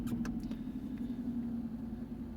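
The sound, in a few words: 2010 Jaguar XF engine starting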